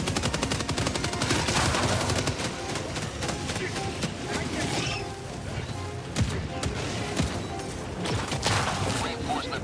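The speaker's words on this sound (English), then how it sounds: "There was the autocannon." Autocannon fire in a video game war battle rattles in dense, rapid bursts with scattered explosive impacts, loud and continuous over nearly ten seconds, with voices talking underneath.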